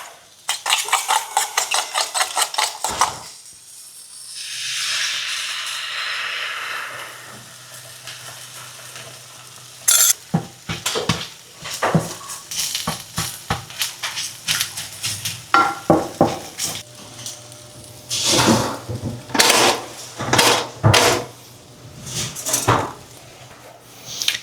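Eggs and sausages sizzling in a frying pan, the loud steady crackle of hot fat running throughout, broken by frequent scraping and clattering of a utensil against the pan as the food is stirred and moved.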